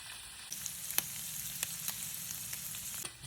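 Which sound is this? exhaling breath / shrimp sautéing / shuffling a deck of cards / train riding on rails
shrimp sautéing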